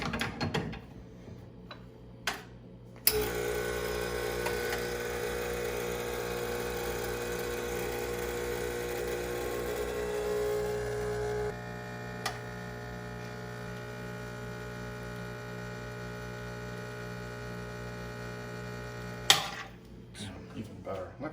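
A higher-end espresso machine runs with a steady mechanical hum and pump drone for about sixteen seconds, loud and close, starting and stopping abruptly with small clicks around it.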